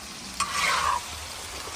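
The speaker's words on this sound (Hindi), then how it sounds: "ये बन रही है तवा फ्राई कलेजी, अहमद की फरमाइश पर" Chicken liver sizzles as it is stir-fried on a tawa, a steady close hiss with a scrape of a spatula partway through and a sharp clack at the end, no talk.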